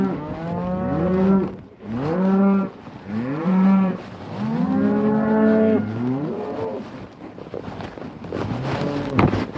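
A cow on a farm during a fall cattle gather moos repeatedly in long, drawn-out bellows, loud and close, with wind noise rumbling in the background.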